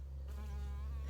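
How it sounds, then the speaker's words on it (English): A bee buzzes nearby with a steady, faint hum that rises slightly in pitch, heard alone over a low background drone. "Oh my God, it's a bee."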